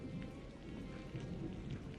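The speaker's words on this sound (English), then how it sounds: "It is just heavy rain." Heavy rain pours steadily in a dense, continuous hiss across a city street, a constant wash with no breaks or voices.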